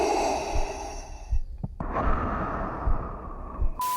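A human voice imitates Darth Vader's mechanical breathing apparatus with raspy, hollow breaths: a long inhale, a brief break, then a drawn-out exhale, close and alone, ending in a short click.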